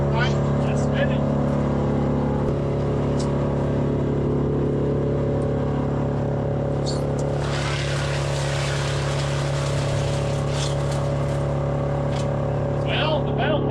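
A wood chipper spins up to speed, its belt-driven engine droning steadily with a loud, sustained mechanical roar and whine that holds without bogging, while people talk nearby.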